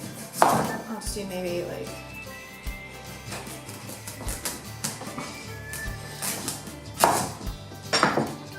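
A knife chops butternut squash into small cubes on a board, irregular sharp thuds repeating at close range while a voice speaks briefly.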